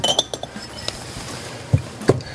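Glassware clinks and chinks as cocktail glasses are handled and set down, bright scattered taps with a couple of duller knocks near the end, close and without talk.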